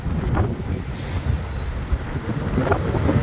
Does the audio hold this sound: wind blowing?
yes